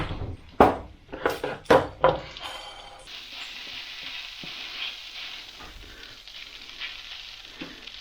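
Beef and vegetables stir-frying in a pan, opening with a few loud sharp clatters and stirs before settling into a steady, bright sizzle that holds to the end.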